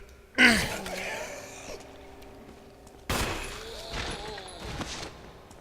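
Gunfire in the video game Resident Evil HD, two sharp loud shots a few seconds apart, each followed by a ringing decay and game sounds, with someone talking under them.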